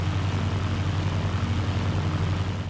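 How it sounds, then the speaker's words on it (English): Allied propeller planes in the video game Battlefield 1942 drone steadily and loudly, a continuous low engine hum with no pauses and no voices. "We've already got a number of Allied planes over there"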